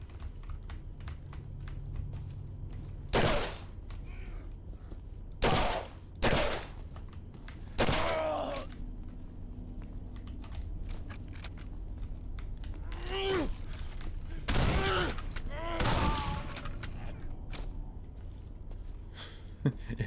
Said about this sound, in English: that guy's shooting me with a fucking shotgun